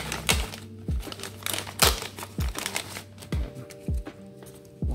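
Crinkly plastic packaging around a motorcycle tank bag flange being handled and opened, a series of sharp rustling crackles at irregular intervals, close and fairly loud.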